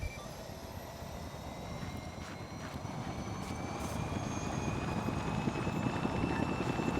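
A Hind helicopter in a video game comes in to land, its rotor and engine making a steady, thick drone that slowly grows louder and nearer.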